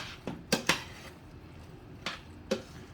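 Vegan cheese sauce and vegan cheddar mixed in a dish, a few sharp clinks and scrapes of a utensil against the dish over a soft rustling background, close and fairly quiet.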